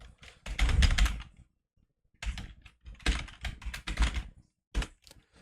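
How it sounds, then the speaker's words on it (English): Fingers typing C# code on a computer keyboard, close and moderately quiet, in quick bursts of key clicks separated by short pauses, with one brief final burst after a gap. "let's just type this"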